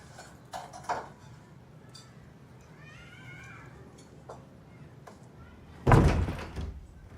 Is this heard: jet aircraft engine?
no